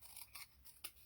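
Paper being trimmed with scissors for a Stampin' Up! card project: three or four quiet, close snips in quick succession, with no talking.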